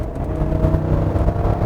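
A 2023 Chevrolet Tahoe's big engine pulls under acceleration, a steady, dense low rumble and whir heard from inside the cabin, holding even in loudness throughout.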